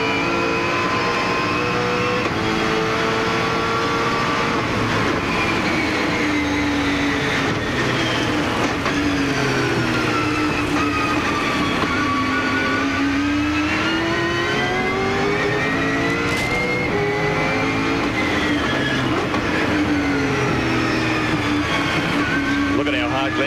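Onboard engine of Glenn Seaton's Ford V8 Supercar racing at Oran Park in 1999, a loud, steady V8 roar that rises and falls through the gears. Commentary voices run underneath.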